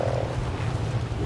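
A Beelzebufo, the giant prehistoric frog in Ark: Survival Evolved, croaking at a pond: a short, low, throaty croak, steady and fairly close, heard alone for about a second.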